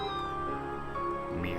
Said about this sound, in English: Meow. Meow.